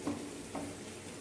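Khichuri with cauliflower sizzles quietly in a pot, with two soft bursts of stirring and frying over a low, steady crackle.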